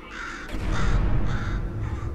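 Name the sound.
bird cawing in video game Portal 2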